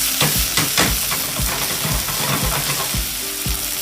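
Teriyaki chicken fries in a pan as sugar caramelizes over it, a close steady sizzle punctuated by regular stirring or turning knocks, with no talking.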